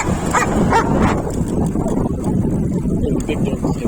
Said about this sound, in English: he's probably just barking